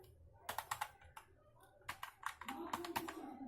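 Someone types a PowerShell command on a computer keyboard: a close, quick run of crisp key clicks in short bursts with brief pauses, over a faint low hum and no talking.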